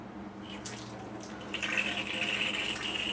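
Water pours steadily from the output line of an RO water purifier pump, a close hissing flow that swells louder partway through over a low mechanical hum.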